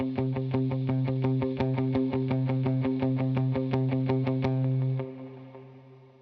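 An electric guitar plays a steady alternate-picked C note with drive, light hall reverb and dotted eighth delay, a fast even stream of attacks for about five seconds before the tone rings out and fades.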